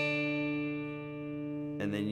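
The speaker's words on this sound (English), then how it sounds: "You play the D string, it sounds like this." D string pair on a 12-string guitar plucked once, a bright sustained tone slowly fading, then cut off by a noisy handling sound near the end.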